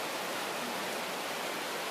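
Steady broadband hiss of rain falling outdoors, continuous and even throughout, with no voices or other distinct sounds rising above the wash.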